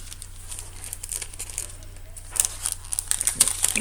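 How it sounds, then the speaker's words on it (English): A small plastic baggie from a paper-craft kit is emptied, giving soft, irregular crinkles that grow louder and busier toward the end, up close with no voices. "Empty my little baggie here."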